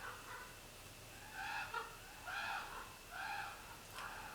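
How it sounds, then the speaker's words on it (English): Harsh, croaking bird calls in four or five bursts, ravens outside, moderately distant over a steady low background hum. "Ravens."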